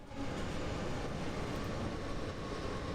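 Steady rumble and roar of a four-car passenger train running on the Rhine-Ruhr main line between Duisburg and Bochum in Train Sim World, continuous and broad with no talk.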